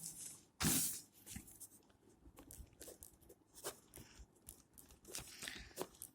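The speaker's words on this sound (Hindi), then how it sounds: "तो अरीय त्वरण का सूत्र लिख देते हैं यहाँ पर" A pen or chalk scratches out a formula by hand in short, uneven strokes and taps, faint and close, opening with one louder rustling burst and with no speech.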